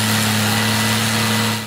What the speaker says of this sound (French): retirer la couche usée de l'ancienne chaussée à l'aide de puissantes fraiseuses qui découpent le revêtement avec une précision millimétrée